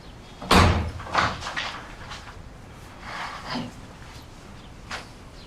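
A door shuts with a loud thump, followed by a few softer knocks and rattles as it settles, close by and alone.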